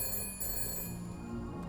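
A telephone rings indoors, a steady electronic tone with bright, even pitches held through the whole moment, fairly loud and alone with no voices.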